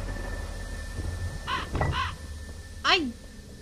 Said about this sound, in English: I like that there's a crow there.